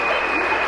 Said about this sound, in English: Getting a nice little standing ovation from the away crowd